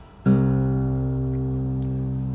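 A single guitar low string, tuned down from E to C for drop C tuning, is plucked once and rings out in a sustained, steady low note, close and alone.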